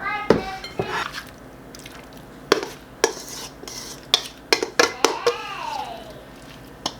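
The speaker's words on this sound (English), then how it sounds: "Now I'm going to add this to our greased dish." Coated potatoes scraped and spooned into a greased baking dish, a series of clinking utensil knocks and soft wet slides against the dish, close and moderately loud with brief pauses between them.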